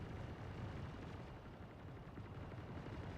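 Distant turrets firing in the video game Star Citizen, a faint, continuous rumble of muffled gunfire and booms with no clear separate shots.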